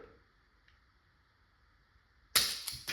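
A single sharp shot from an Umarex Glock 17 Gen5 .43 caliber CO2 pistol, close and loud after near silence, followed by two quicker impact cracks.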